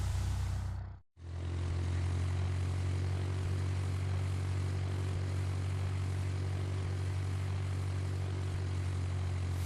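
A Cessna's propeller engine drones steadily and loudly before takeoff. A brief cut near the start is followed by an unbroken, even hum for the rest of the clip.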